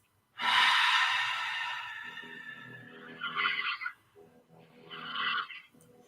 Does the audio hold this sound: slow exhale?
yes